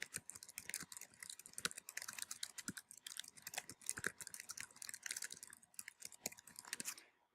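Fast, continuous keyboard typing with crisp, dense key clicks through the whole stretch, near and fairly quiet, stopping at the end.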